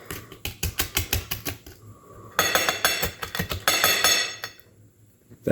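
Spoon scraping and clinking in a dish while Frito pie filling is smeared and mixed together, a run of quick close taps followed by longer, denser scraping bursts, no talk.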